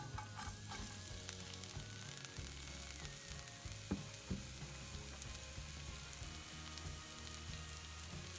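Onion and garlic frying in olive oil in a pan over a low flame, a steady soft sizzle with a few stirring clinks, heard close and without talk.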